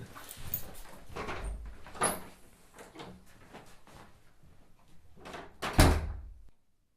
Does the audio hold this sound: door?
yes